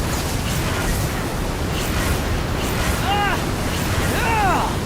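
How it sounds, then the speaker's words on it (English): Rising wind in the Genshin Impact video game, a steady broad whoosh like rushing air or surf that swells slightly toward the end, with a few brief chirping tones over it. "The wind rises."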